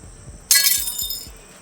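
A glass object breaks close by in a lab setting: one sudden bright shatter, followed by a second of tinkling shards settling and fading, with faint low thumps before it and no talk.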